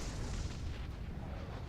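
A spaceship blows up in the space combat game Star Citizen, heard as a dull, rumbling boom that rolls on steadily and fairly quietly for its whole short length.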